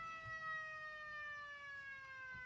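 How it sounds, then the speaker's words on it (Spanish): A small electronic circuit simulating a World War II air-raid siren gives a faint, steady wail of layered tones that slowly glides downward in pitch. "con este sencillo circuito nos podemos construir un pequeño simulador de sirena"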